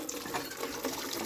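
A water pump runs on a Thai rural plot, giving a faint, steady watery churning with a light mechanical rattle for a brief moment, with no talk.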